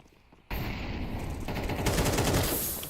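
Sustained automatic rifle fire in a Counter-Strike match, a dense rapid burst starting abruptly and continuing loud and unbroken for a couple of seconds.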